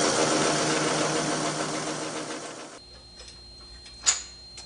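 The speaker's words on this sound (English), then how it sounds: "This machine is fixtured so that it miters both seat stays at the same time." Workshop machine fixtured to miter both bicycle seat-stay tubes at once runs with a dense mechanical whir, then cuts out to near quiet with a faint hum and one sharp metallic tick.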